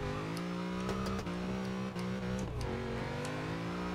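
Chevrolet Monte Carlo SS engine drifting in Forza Horizon 2, a loud sustained rev with shifting pitch and brief throttle dips, occasional sharp tire-scrub bursts, no talk.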